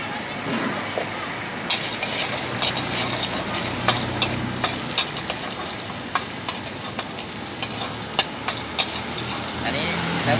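Garlic and eggs sizzle and crackle in a hot pan while being stir-fried, a constant frying hiss broken by sharp clicks of a spatula scraping and tapping the pan. A voice speaks intermittently over the cooking.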